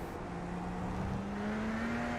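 A Radical race car in iRacing at Fuji accelerates with a loud, steady engine note that rises smoothly in pitch, close and continuous with no talk over it.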